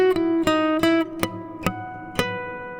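Electric guitar harmonic chimed at the 12th fret of the G string with a capo on, repeated bell-like plucks in a steady rhythm that ring out clearly and alone, decaying after the final note.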